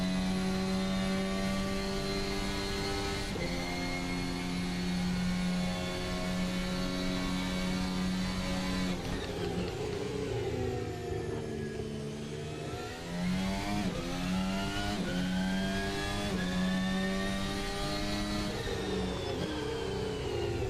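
Formula 1 car engine in Assetto Corsa practicing laps at Monza, a loud continuous high-pitched whine that climbs steadily with each gear, drops sharply on downshifts around mid-lap, then climbs again, with no voices over it.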